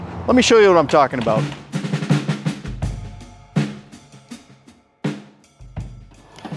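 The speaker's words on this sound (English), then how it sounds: "apologies for the banging. We got some roofers just doing their job over here" Roofers hammering on a nearby roof send out sharp, irregular bangs, a few loud isolated thumps spaced several seconds apart, under someone talking.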